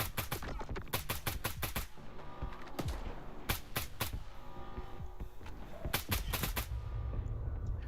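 Bursts of rapid gunfire in the shooter game S.T.A.L.K.E.R. 2: Heart of Chornobyl, several sharp volleys rattling out in clusters with brief gaps between them, loud against a steady noisy background.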